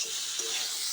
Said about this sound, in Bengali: এদিকে কেবল তরকারি ভাজি হচ্ছে নাকি